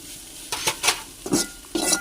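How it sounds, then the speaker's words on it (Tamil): Okra poriyal sprinkled with pepper powder gets stirred in a pan, with a few short scraping and clattering strokes of the spoon against the metal, close and moderately loud, and no voices. "அது மேலே மிளகுத்தூளை தூவி விட்டுட்டு ரெண்டு கிண்டி விட்டுடணும்."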